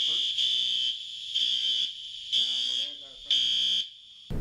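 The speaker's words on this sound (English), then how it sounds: "the fire alarm's going off, you got to leave" A fire alarm blares in a building in repeated loud electronic tone bursts, each about a second long with short gaps, while people talk between and under the pulses.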